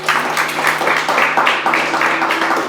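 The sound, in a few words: congregation applauding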